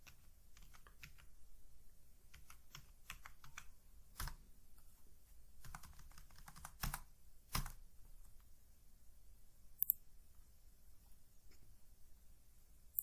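Keys on a computer keyboard are typed in short irregular bursts of crisp clicks, close and fairly quiet, with pauses between words and a louder tap near the end.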